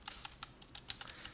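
Rapid, light computer keyboard typing with a Ctrl+Space key combination pressed, a string of close, crisp clicks in an uneven rhythm and no talking.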